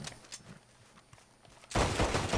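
Pistol gunfire in Red Dead Redemption 2: after a stretch of faint, scattered sharp cracks, a dense, loud burst of rapid shots erupts and keeps going.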